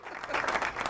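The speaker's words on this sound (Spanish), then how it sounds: "Jere, esto merece otro aplauso." A studio audience on a television show breaks into applause, a brief, loud burst of clapping heard close up.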